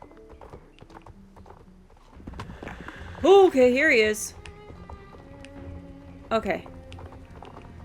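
Horse hooves clip-clop in Star Stable Online, a steady galloping patter under a person talking, with a loud whinny near the middle and a shorter one toward the end.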